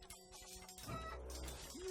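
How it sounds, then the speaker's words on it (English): A zombie chicken clucks in the Undead Horde video game, a short nearby clucking that sits over steady game music and ambience. "I now have a Zombo chicken."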